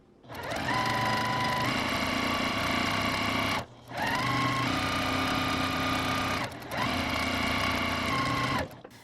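A sewing machine stitches a gingham pillowcase in three long, loud, steady whirring runs, each broken by a short pause before the motor starts up again, with no voices.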